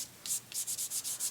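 A fingertip rubs orange and red pastel across paper, blending color in a series of soft, rhythmic back-and-forth strokes, close and fairly quiet with no talking.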